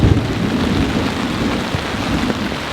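Heavy thunderstorm rain pounds a large tent during a hot, humid camping night, a dense, loud, unbroken roar of drumming drops with a low rumble beneath.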